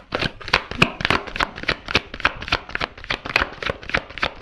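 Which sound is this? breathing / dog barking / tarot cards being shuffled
tarot cards being shuffled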